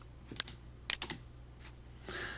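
Computer keyboard keystrokes, several sharp separate clicks in an uneven rhythm ending in a short cluster, close and clear, with no talking.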